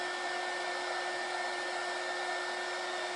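A hair dryer blows steadily on freshly printed silk-screen ink on a tea towel, a constant close whooshing roar with a high motor whine running unbroken from start to finish.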